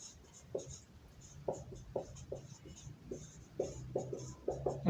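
Chalk or marker tapping and scratching across a board in a chemistry lesson, a quick irregular series of short strokes, faint and close, with a voice speaking over part of it.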